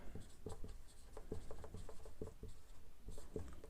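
Chalk or marker writing a point on a board, a rhythmic series of short scratchy taps and strokes, quiet and close, continuing steadily without voices.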